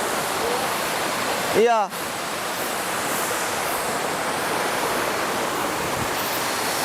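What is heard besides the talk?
river water rushing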